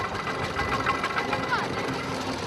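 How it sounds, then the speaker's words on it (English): A man's vehicle engine runs steadily while pulling a trailer, a close, continuous rhythmic chugging with a knocking pulse throughout, with voices talking over it. "Now that the engine has been running"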